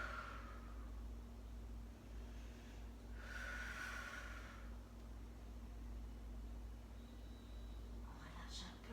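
Someone holding a plank exercise breathes heavily, with a few loud, rushing exhales and snorts spaced apart over a constant low hum.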